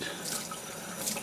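Tap water runs steadily into a sink while a glass jar is washed to clear label glue residue, a continuous close splashing hiss with no talk.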